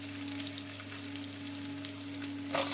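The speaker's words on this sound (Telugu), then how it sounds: "ఆనియన్స్ బాగా ఫ్రై చేసుకొని" Onions frying in hot oil with tempering spices for a Telugu broccoli curry: a constant close sizzle with a faint hum under it, then a louder hiss near the end, and no voices.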